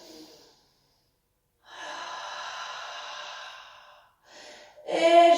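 Deep breathing during a Pilates exercise: a long, steady, close exhale through the mouth, then a short breath and a sharper, louder rush of air at the end, with no talking.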